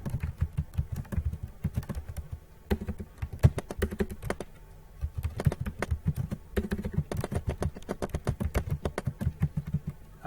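Someone types a sentence on a computer keyboard, a close, quiet run of rapid irregular key clicks with brief pauses between words, and no talking.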